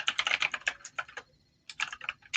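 Fast clattering keystrokes on a computer keyboard, set a little farther away than usual, come in quick bursts with a brief pause midway, then resume; no one speaks.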